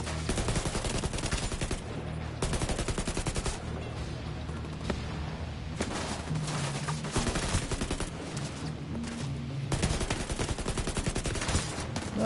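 Gunfire from a gun in the video game The Division 2 comes in long, loud, sustained automatic bursts separated by short pauses.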